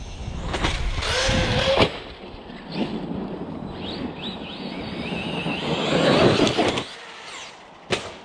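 A Traxxas WideMaxx RC car motor whines and buzzes as the truck drives through snow, with a steady mid-level drone, brief louder surges near the start and end, and wind rushing over the microphone.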